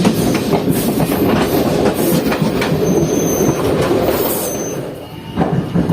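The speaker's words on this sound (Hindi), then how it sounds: "देखिए कैसे पटरी बदल रहा है।" A Jaynagar–Samastipur passenger train changes tracks, its wheels clattering and rumbling loudly over the points with rapid irregular clicks and faint wheel squeals, near and continuous, with no talk.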